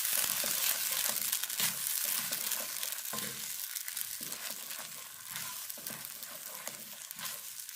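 A paste of raw peas and potato sizzles and fries in a pan while being stirred, a steady close crackle with repeated soft scraping strokes, and no talking.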